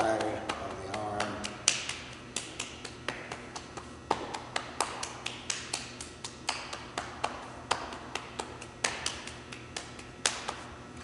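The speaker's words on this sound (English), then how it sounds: "Knock on the kidneys" Rhythmic knocking and patting on the body, over the kidneys and lower back, during a qigong self-massage session: a steady run of about twenty sharp, close taps at a regular pace, with no talk.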